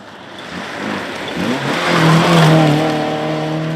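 A Mini rally car competing in Class B2 on the 2014 Mid Wales Historic Stages, running without its air filter, its engine rising and revving hard as it passes close by, with a loud, rasping note that holds and builds over a few seconds.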